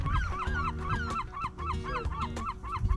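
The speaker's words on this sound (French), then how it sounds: "Est-ce que nos amis les goélands ont faim?" Hungry seagulls on the Brittany coast call in repeated loud honking cries, several birds overlapping close by in steady bursts, with no talk.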